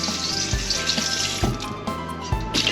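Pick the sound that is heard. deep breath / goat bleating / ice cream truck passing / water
water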